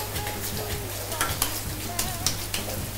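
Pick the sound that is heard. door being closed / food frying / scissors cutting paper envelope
food frying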